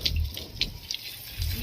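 Water is poured and splashed while Scooby the dog is bathed: a run of near, uneven splashes and drips over a low rushing background, with a voice faintly underneath.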